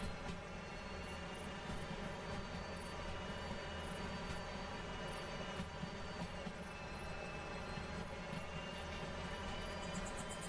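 A locomotive in the Derail Valley train simulator runs steadily with a constant dense rumble and mechanical drone, loud and unbroken throughout, with no talking.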